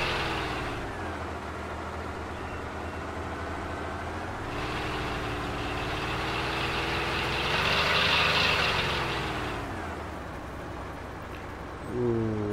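A car engine holds a steady throaty drone, swelling as it is revved harder around the middle and then settling back, loud and close with no voices.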